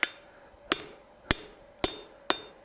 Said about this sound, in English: I'm taking really good hard hammer blows on this piece to get it upset